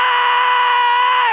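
A man's sustained metal-style scream into a studio microphone, a single loud, steady, tonal yell held for over a second before tapering off.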